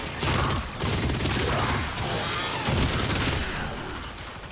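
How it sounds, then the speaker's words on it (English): Rapid gunfire from weapons in the sci-fi shooter game Warframe, a dense, continuous burst of shots that stays loud and close throughout. "who's shooting at me?"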